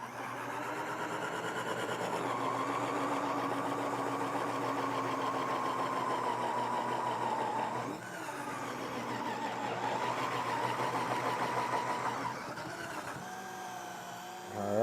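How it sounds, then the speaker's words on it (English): Ninja CREAMI or Cuisinart FastFreeze ice cream maker with its blade spinning and failing to cut through a frozen pint: a steady mechanical whir with a slight wobble, brief dips where the load shifts, close and continuous. "So as the blade spins, it's not holding steady and the blade can't cut through."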